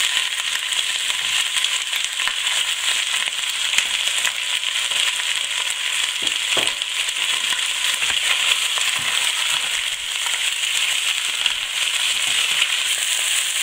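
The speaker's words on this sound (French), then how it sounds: "faites dorer chaque morceau dans cette huile bien chaude jusqu'à ce qu'il soit coloré sur toute leur face" Pieces of mutton browning in very hot oil for a ragout, a steady loud dense sizzle and crackle that runs continuously without pause, with no voices.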